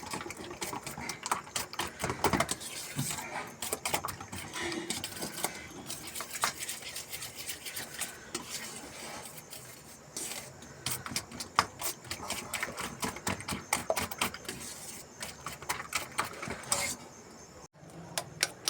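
Two eggs beaten by hand in a bowl for the chicken filling of a Mughlai chicken paratha: fast, steady, rhythmic clicking and tapping that runs on with a few short pauses, fairly close and without talk.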